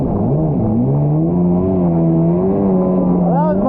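Stand-up 701 Superjet jet ski engine riding around a track, a steady droning tone wavering slightly as the throttle shifts, loud and close throughout with no pause.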